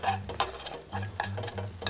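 A pan sizzles while a sauce is made for a cheese-and-date stuffed pork tenderloin, with an uneven crackling fry and repeated stirring or scraping bursts, close up and without talk.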